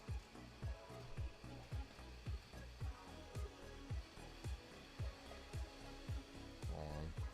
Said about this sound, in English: Something's in the trap of the vacuum.